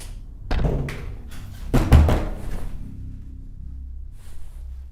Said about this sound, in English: you're banging on the walls